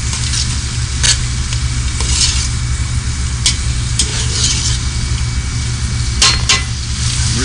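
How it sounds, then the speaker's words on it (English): Food sautéing in butter in a pan gives a loud, steady sizzle, with occasional light clinks and scrapes as it is stirred around. "We saute it to get all the flavors coming out of there. Just keep it moving around right in the butter."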